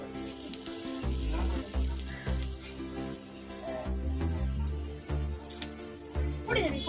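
Steady close-up sizzle of eggplant slices frying in a pan with bubbling oil throughout, occasional soft clatter in the pan.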